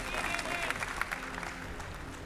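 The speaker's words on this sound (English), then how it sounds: "Lovely cheers from the crowd" Crowd at an esports event cheering and applauding after a win, a dense steady wash of clapping and shouts throughout, with a faint voice underneath.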